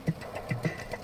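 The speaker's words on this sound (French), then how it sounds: "ça fait beaucoup de bruit, hein, une Laika, ça fait pas mal de bruit" Laika car engine running in the driving game Jalopy, a low, lumpy mid-pitched engine note pulsing in a few uneven throbs, fairly quiet and steady with no talk over it.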